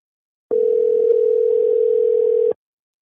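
A telephone dial tone sounds while a call is being placed: one steady, pure, continuous tone that holds for about two seconds, close and clear against silence, then stops abruptly.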